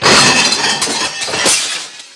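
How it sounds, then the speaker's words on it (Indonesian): A cupboard shelf gives way and a load of plates crashes down, shattering loudly in one dense burst of breaking crockery followed by a scatter of clinking shards, close and with no talk. "partisi lemarinya patah dan hal itu menyebabkan piring-piring berjatuhan dan pecah"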